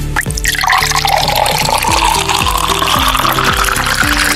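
A shot of liquor is poured, with rising glugging and trickling whose pitch climbs as the glass fills, loud and close, in several quick bursts with no talking.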